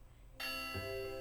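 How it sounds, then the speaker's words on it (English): A school bell rings in the video game Pokémon Ranger: Shadows of Almia, with a bright chime that enters suddenly, then a second lower tone joining and ringing on steadily, all fairly loud and without talking. "There goes the bell."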